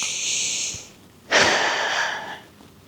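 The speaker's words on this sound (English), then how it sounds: "Inhaling and exhaling fully, deeply." Slow, deep breaths during a gentle Pilates session, a long airy inhale followed by a fuller, louder exhale, close and unhurried with no talking.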